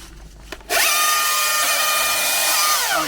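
A battery-powered top handle chainsaw in eco mode, with a reduced chain speed, whirring up sharply from quiet and running at a steady, smooth, loud, high-pitched whine that dips slightly near the end.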